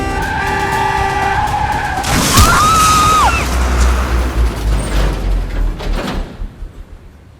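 A car screeches and skids loudly up close amid tense street noise, with doors banging as men hustle someone into the vehicle, then the engine rumble fades away.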